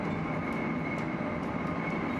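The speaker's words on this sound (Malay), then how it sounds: "bunyi gegaran roda tren ketika melalui landasan amat kuat" A train's wheels rumble steadily along the rail track, loud and continuous, with a constant heavy roar close by throughout.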